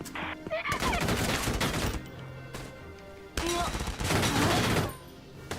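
Video game gunfire from Valkyria Chronicles 4, including friendly fire: two loud, dense bursts of rapid shots separated by a quieter pause, with game sounds and a voice in between.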